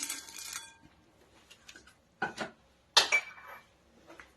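Roasted makhana chaat with peanuts and chaat masala is stirred in a metal pan, giving a few separate clinking scrapes of spoon against metal, close and sharp, with quiet gaps between strokes.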